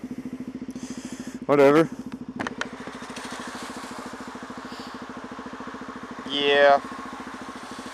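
Motorcycle engine idling close by with a steady rapid pulsing putter, while two short spoken words break in over it.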